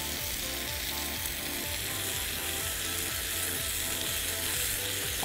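Diced shallots sizzling in a hot pan alongside lamb steaks, a dense continuous frying hiss with a faint rhythmic mechanical ticking underneath, steady and close, no talk.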